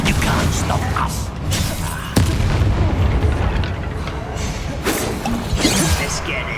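Fire-blast spell explosions from the Hogwarts Legacy wizarding game, a few loud booming bursts with crashes amid combat effects and a voice speaking over the action.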